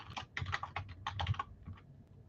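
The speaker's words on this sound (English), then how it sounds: "I'm typing them to try to make it a little easier." Rapid, uneven keystrokes on a computer keyboard as names get typed in, a close clatter of clicks in short bursts with brief pauses and no talking.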